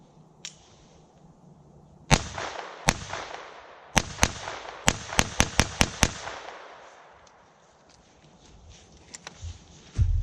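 Sharp, loud .22 gunshots ring out outdoors, first a few spaced shots, then a quick series of about eight cracks in rapid succession, each followed by a short echo.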